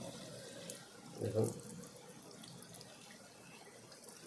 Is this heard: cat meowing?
no